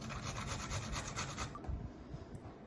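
Fresh ginger is rubbed across a grater in quick, regular rasping strokes, close and fairly quiet, then the scraping slows and thins toward the end.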